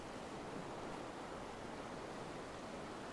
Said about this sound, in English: the waves are washing up onto this rock quite a lot